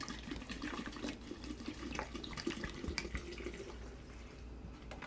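Filtered water is poured into a glass jar for homemade herb vinegar, giving a quiet, steady trickling and splashing stream with small gurgles throughout.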